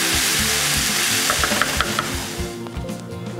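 Faux fried rice sizzles steadily in a hot pan at close range, with a few light stirring scrapes breaking through the continuous frying hiss; no voice over it.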